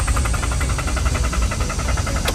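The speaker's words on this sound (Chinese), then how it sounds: "打不着，再试一次。" A car engine with a hot-start fault, suspected failed coolant temperature sensor, cranks with a steady rapid rhythmic chug for the whole stretch, loud and close, without catching.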